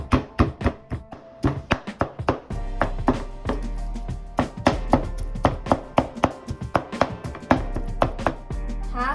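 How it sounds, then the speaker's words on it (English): A knife chops meat on a board for bun filling in a steady, brisk rhythm of sharp, close thuds, some in quick bursts, with no talking. "Let's chop the meat."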